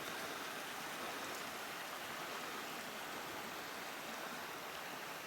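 Steady broadband rush of a low-flowing stream beside a path on the Gibb River Road in mid-August, a continuous even wash of water heard alone with no voices.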